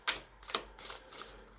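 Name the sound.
shuffling Shamanic Medicine oracle cards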